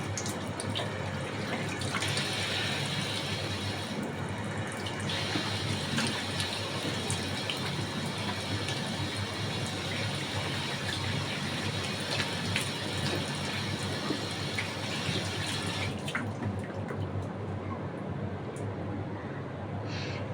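Tap water runs and splashes steadily as a face is rinsed. The flow is continuous and close, with a shift in tone partway through, then quiets near the end.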